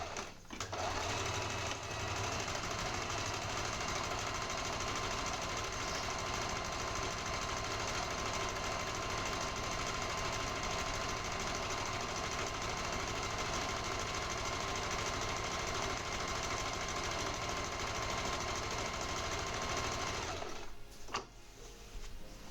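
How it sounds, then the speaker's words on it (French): A sewing machine runs continuously and loudly at a steady, rapid mechanical rhythm for about twenty seconds before abruptly stopping near the end. "Je sais que c'est un peu chiant d'entendre la machine à coudre comme ça."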